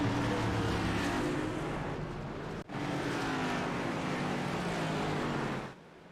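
Several race cars in a digital racing series, a dense continuous engine roar with one sharp momentary dropout midway before fading out at the end.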